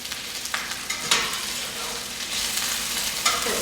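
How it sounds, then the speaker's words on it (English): Green beans in a pan with olive oil and garlic are stirred, a steady sizzle and fry running throughout with a few soft scraping knocks, close and fairly loud, no talking. "Once you stir them around and they're coated with that oil"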